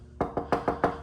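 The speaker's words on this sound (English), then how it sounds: "I'll do the knock test. Okay, so you got real glass in there." Five quick, evenly spaced knuckle knocks on a pane of real window glass in a mobile home, close and crisp, each with a short resonant ring, with no talking.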